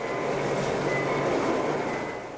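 Lionel train running steadily with a continuous rumbling roar and faint rail whine, loud and close, no voices.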